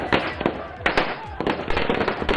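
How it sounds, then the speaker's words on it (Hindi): Firecrackers burst at an outdoor election-results celebration in India, sharp cracks going off in quick irregular succession amid crowd noise and voices. "देखिए पटाखे फूट रहे"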